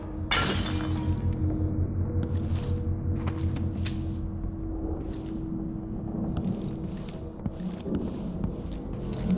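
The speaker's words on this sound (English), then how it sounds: "That sounded like broken glass." Glass shatters in Dishonored 2 with a bright crash and then scattering tinkling fragments, heard over a steady low game ambience, with further sharp bursts following.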